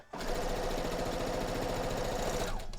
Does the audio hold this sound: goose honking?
no